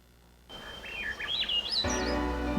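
Birdsong plays from a video shown at a school board meeting, with clear melodic whistled phrases rising and falling over soft background sound, then a louder music bed comes in underneath.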